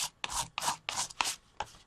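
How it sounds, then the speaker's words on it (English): A palette knife scraping leftover paint up from a mixed media color book page: six short, rasping strokes in quick, uneven succession, close and fairly quiet. "let me finish scraping this up"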